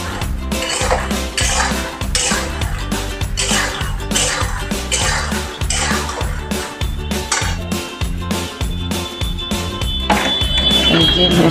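Makhana (fox nuts) tossed in a pan give a steady, loud, rhythmic clatter of metal on metal that repeats for the whole stretch, close up, with no talking.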